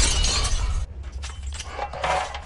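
Glass shatters loudly at first, and the dense crash gives way to a scatter of tinkling, clinking shards that keep falling and settling over a couple of seconds.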